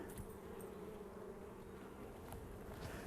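A dense swarm of honeybees drones steadily on a frame lifted from a farm beehive, a continuous close, even buzz with no talk.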